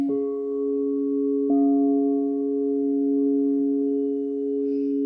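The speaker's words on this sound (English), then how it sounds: "like I'm playing this bowl" A sound bowl is struck at a sound healing workshop, ringing out in a pure sustained tone, then struck again about a second and a half later and left humming steadily with no voices.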